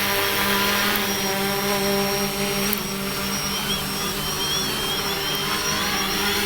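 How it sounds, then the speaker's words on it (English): A FIMI X8 SE 2022 edition drone flies back toward its landing spot, giving a continuous high-pitched propeller whine with a steady motor hum, loud and close throughout with no talk. "So the drone's up here coming back to home."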